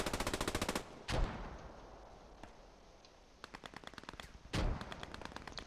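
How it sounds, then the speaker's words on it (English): An MG machine gun fires in the World War II game Post Scriptum, with rapid bursts of sharp, evenly spaced shots separated by pauses and a couple of heavier booming impacts, fairly close and loud. "Hugh holding the thing on his own, but he does have an MG"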